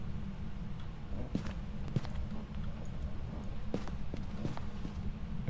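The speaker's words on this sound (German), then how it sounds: "Ich habe gerade Schritte fotografiert von ihm." Faint, irregular footsteps of a ghost in the Phasmophobia video game, a handful of soft thuds spread over a constant low rumble, distant and never loud.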